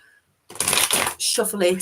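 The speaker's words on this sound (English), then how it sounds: "just give me a second, Lynn, to get my cards back to the state of shuffledness" Tarot cards being shuffled by hand: a quick riffle of rapid papery flutters, a brief pause, then a second burst of shuffling, close and crisp.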